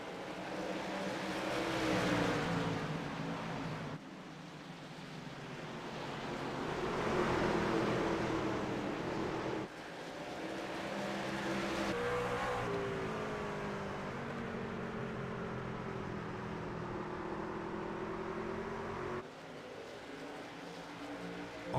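Race truck engines in a sim racing game truck series at North Wilkesboro, droning and shifting in pitch over a long stretch, several motors overlapping at moderate level with no voice heard.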